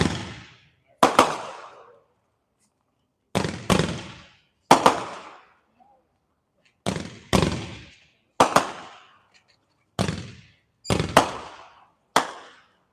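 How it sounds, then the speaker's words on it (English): A Fire Factory Paparazzi 5-ball firework candle fires outdoors at a night demo. Loud, sharp pops come in close pairs and singles, each followed by a brief crackling decay, about a dozen shots over the stretch. "It's from Fire Factory called Paparazzi 5-ball."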